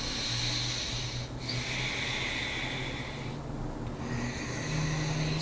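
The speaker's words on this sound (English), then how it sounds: "Ujjayi pranayama" Steady, deep Ujjayi pranayama breathing during a yoga flow, a continuous rushing hiss sustained across the clip with a low hum beneath, close and fairly even in level with no talking.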